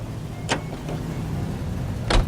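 Car engine hum while driving in the 1940s Los Angeles crime game L.A. Noire, a steady low drone broken by two sharp brief clicks or thumps, with no speech.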